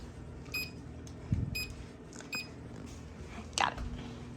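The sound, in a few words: kitchen timer being set for 3 minutes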